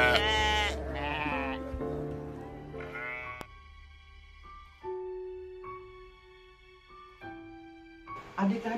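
A lost sheep bleats in several wavering, drawn-out cries, close and fairly clear, followed by quieter sustained tones and another short bleat at the end.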